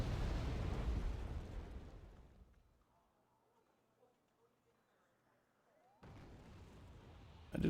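Artillery bombardment in the war strategy game Wargame AirLand Battle: loud, dense rumbling explosions at the start fade into a quiet lull, then another heavy blast bursts in near the end.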